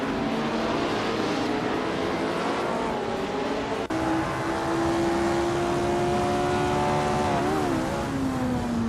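Eagle Mark 1T1G race car engine in a racing video game, a loud sustained drone that holds steady, then rises and dips in pitch, with no voices.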